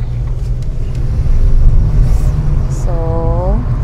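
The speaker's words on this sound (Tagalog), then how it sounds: "May mga sasakyan dito." Cars on a busy, crowded road in Canada on a cold morning, a steady low rumble of traffic passing close by, with a brief rising engine whine near the end.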